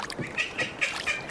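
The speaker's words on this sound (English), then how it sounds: "It seems we've attracted a duck." A duck quacks in a short run of four or five nasal calls at moderate distance, near people fishing with mustard-smeared bait.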